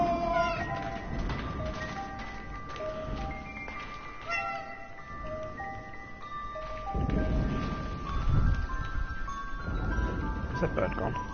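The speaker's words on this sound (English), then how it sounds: "Ist das eine Katze? Das blöde Viech ist im Weg." Cat meows in the video game 11-11: Memories Retold, several short tonal cries over busy game music and ambient noise, with voices talking at points.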